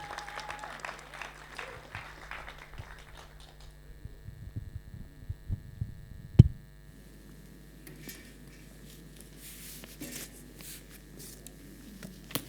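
Audience applause in a church hall welcomes Tim to the front, a steady patter of clapping through the first few seconds that thins out, followed by a single sharp knock and then quiet room noise.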